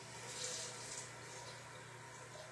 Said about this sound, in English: let me rinse this with some water